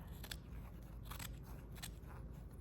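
Faint snips of scissors rough-cutting a quilted fabric bookmark, a handful of short crisp cuts spaced irregularly over steady background hiss.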